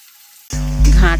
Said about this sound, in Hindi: उसके बाद प्याज को डालते हैं।